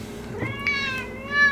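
A cat meows in a close, drawn-out, wavering cry that rises toward the end.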